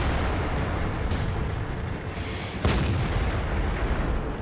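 A tank gun round in World of Tanks, fired from the T29, with a sharp crack partway through over constant loud rumbling engine and battle noise.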